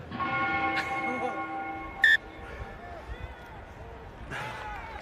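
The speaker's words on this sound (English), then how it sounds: "The 30-second gong went" A short bright gong tone rings once through crowd noise at a rugby sevens match in a stadium, while an announcer talks over the rumble of the crowd.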